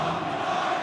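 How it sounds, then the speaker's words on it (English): Melbourne Victory football fans cheer in a stadium during an A-League match against Adelaide United, a brief, steady, dense crowd roar filling the stand. "There's fantastic noise in this great stadium."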